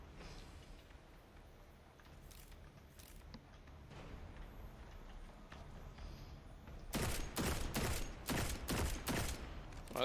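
A slow-firing scout rifle in Destiny, a few sharp shots spaced apart, loud and close, following a stretch of quieter ambient movement.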